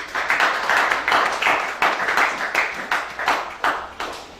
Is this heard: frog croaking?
no